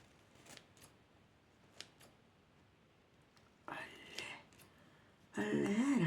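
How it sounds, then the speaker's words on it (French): Scissors snipping paper for a Christmas junk-journal scrapbook, quiet and close, a few faint snips then louder rustling cuts toward the end, with faint murmuring nearby. "Attends, on va couper là."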